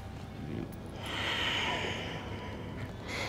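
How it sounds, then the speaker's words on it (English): A slow, deep yoga breath drawn in and released through the nose, soft and close with a faint airy rush rising and fading over a few seconds. "One more breath."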